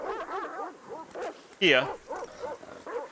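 Small dogs yapping and whimpering as ambient background on a tabletop game map during a Rolemaster session, a brief louder bark burst in the middle, all under steady conversational talk.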